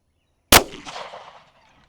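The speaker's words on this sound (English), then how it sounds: "it is 9mm against a tree" A single shot from a Glock 19 9mm pistol fired into a tree outdoors: one sharp, loud crack after brief silence, followed by a short fading echo, with nothing else around it.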